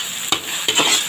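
Pansit bihon sizzles as it is stirred and tossed in a hot pan with oyster sauce, with a spatula scraping twice over a steady frying hiss.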